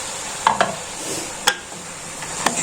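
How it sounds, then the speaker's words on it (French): A spoon stirs tomato sauce in a pan over medium heat, giving a few short scraping clinks at a slow irregular rhythm over a soft steady sizzle, close and moderately loud. "je vais remuer, hop."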